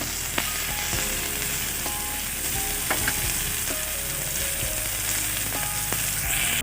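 Chillies fry in a pan with a continuous close sizzle and occasional stirring scrapes, steady and unbroken throughout with no voices.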